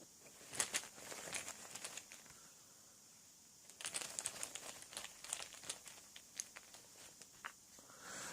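Plastic chaos tokens rustle and clack inside a cloth bag while one is drawn for the Arkham Horror card game, a quiet close-up crinkling in two bursts separated by a brief lull, with no talking.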